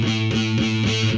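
A distorted heavy metal electric guitar note on the low E string, fretted with too much pressure so it rings as a plain note rather than a harmonic, loud and sustained alone with slight pulsing.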